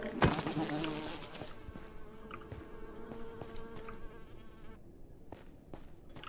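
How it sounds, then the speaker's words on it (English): Large mosquitoes in the modded Minecraft game Create: Above and Beyond give off a loud, close, continuous insect buzz, starting thick and intense before thinning into a lighter whining hum broken by short clicks, with no voices. "Especially because there's fucking big mosquitoes everywhere."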